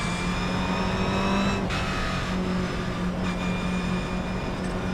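Simulated GR86 race car engine at Oulton Park in a racing game, a steady loud droning whine with faint shifting tones throughout, no voices.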